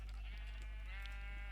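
Sheep in a boat in Minecraft give a wavering bleat, clear and close, over a strong low hum, with no talk.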